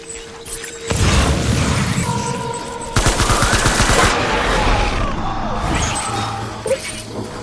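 Loud rapid gunfire in the video game Death Stranding, with a burst of bangs starting about a second in and a second dense volley from three seconds on. The shooting runs continuously over a busy game soundscape, with some speech mixed underneath.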